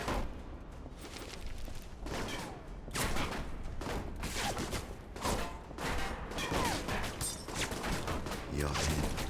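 Gunfire in a video game comes as dense, continuous volleys of loud shots and impacts, with rapid bursts layered over one another throughout, and no pause.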